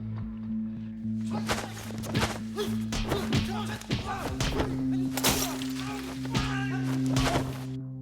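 Sugar glass shatters and crunches during a staged stunt fight scene, with repeated sharp breaking cracks and thuds over a steady low hum, busy and close throughout.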